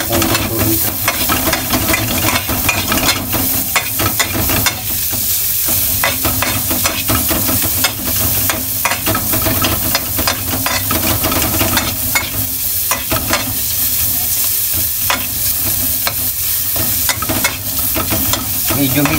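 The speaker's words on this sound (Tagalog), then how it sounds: "Mix po yung ating sibuyas." Onions stirred and frying in a pan for spicy creamy tofu, a loud steady sizzle with repeated scraping strokes of the utensil throughout, close up and with no one talking.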